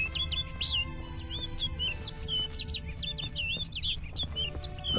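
A bird in a video game keeps up a steady run of quick, high chirps, clear and near, over a low constant ambient hum with no talking.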